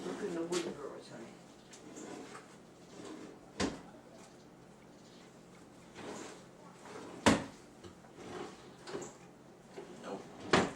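Wooden drawers are opened, shut and rummaged through in a home, giving scattered knocks and sliding thumps, including several sharp bangs, under continuous quiet conversation.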